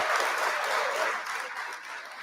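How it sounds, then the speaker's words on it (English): A round of applause from an audience at a live interview event, a dense, steady patter of clapping that holds at fairly close range for about two seconds and then eases off slightly. "Round of applause for Afro Butterfly one time"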